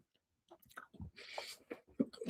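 Someone chewing food with soft, irregular crunching and biting sounds, close and moderately loud, alone for about two seconds with no talking.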